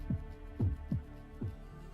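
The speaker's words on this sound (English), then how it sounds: "does it sound like the castle has a heartbeat?" A slow, deep heartbeat echoes through a castle in the video game Fate Grand Order, with soft low thumps pulsing in a steady rhythm over a faint, constant hum.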